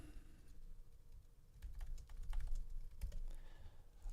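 Someone types quickly on a computer keyboard while juggling two keyboards and two mice, a run of close clicky keystrokes in irregular bursts, fairly quiet, growing busier in the middle.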